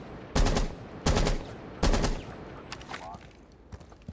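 Three short bursts of automatic rifle fire with a flash hider in Rainbow Six Siege, each sharp volley evenly spaced and loud up close, followed by quieter clicks and shuffling.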